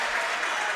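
Crowd at a prep school basketball championship game, clapping and cheering in a dense, continuous wash of applause that fills the whole moment.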